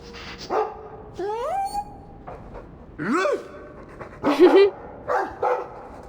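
Dog in the video game Dragon Age 2 panting and giving several short barks and yips, with a few whimpering pitch sweeps, fairly close and moderately loud, spread across the scene.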